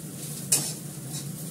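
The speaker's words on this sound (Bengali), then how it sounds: "দেখো এটা আমি হালকা করে ফ্রাই করে নিলাম" Vegetables fry lightly in a pan with very little oil for chowmein, sending up a constant sizzle broken by one sharp utensil clink against the pan.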